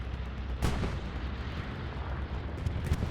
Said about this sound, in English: Bombing run coming in.